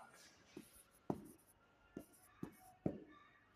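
Handwriting with a pen on paper, a run of short scratchy strokes with a few sharper taps between pauses, close and fairly quiet.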